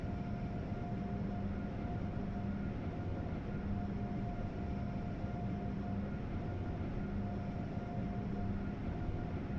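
Amtrak Acela high-speed train running in Train Sim World 3, a steady low rumble of wheels and traction with a faint electric whine and tone, continuous and even throughout with no talking.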